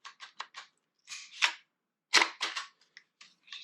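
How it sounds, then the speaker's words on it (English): A Glock 19 pistol is pushed into and drawn from its holster, producing a series of crisp, close plastic clicks and snaps in quick bursts with short quiet gaps. "Pistol locks in, release securely."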